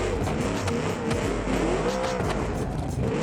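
A car drifting in BeamNG with a career mod, all-wheel drive, engine droning and revving steadily with tire squeal layered over it, loud and continuous.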